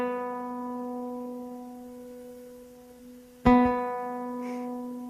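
Tuned B string on a classical guitar rings on and fades, then is plucked again with a sharp attack and sustains, two clear notes heard alone and close.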